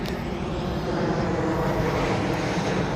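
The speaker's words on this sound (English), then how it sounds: "airplane." An airplane passing overhead, a loud, steady, broadband roar that fills the whole stretch without fading, with no talking.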